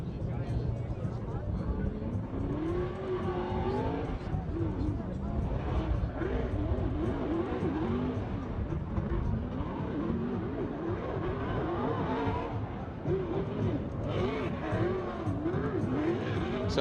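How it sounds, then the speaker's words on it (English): A Formula Drift car warms up its Nitto tires at an event, its engine droning and roaring steadily with rising and falling revs and tire squeal, heard continuously under loud commentary from announcers. "We are seeing Vaughn Gittin Jr. warming up his Nitto tires."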